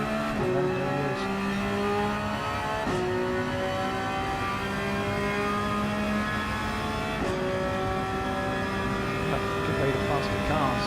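Race car engines in Gran Turismo 7 at Daytona during an IMSA league race, several cars droning and revving loudly with rising pitch sweeps as they pass and upshift, a steady roar throughout with commentary voices underneath.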